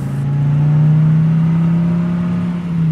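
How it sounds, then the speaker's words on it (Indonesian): A steady, loud engine hum with a sustained low drone from a pickup truck passing close by, holding nearly constant before easing slightly near the end, with no voices. "Tiba-tiba, sebuah mobil pick-up melintas."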